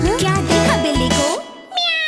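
In a kids' song, a cartoonish cat meows loudly over bright music with singing, a couple of drawn-out mews that may be voiced.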